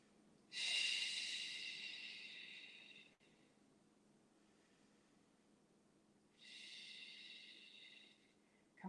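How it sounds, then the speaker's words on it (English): Two long, slow, close breaths are taken while holding a yoga pose, each a drawn-out airy rush separated by a quiet pause. "And breathe 3 breaths here"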